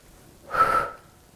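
A woman in a standing abs and arms workout forcefully exhales a single breath, a close, loud breathy rush lasting about half a second.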